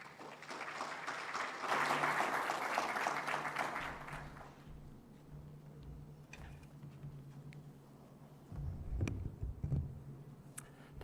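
Audience applause welcoming the Director General at the opening of the IDI Global Summit, a dense burst of clapping that swells and then thins into scattered claps, with a low steady hum beneath and a few louder claps near the end.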